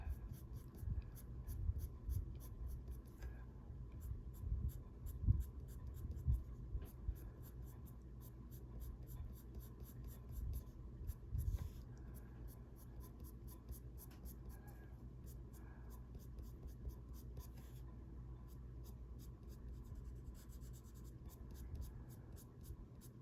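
Quiet scratchy strokes of a sharp colored pencil filling a coloring page of flowers and feathers, close and continuous with small pauses, faint and steady.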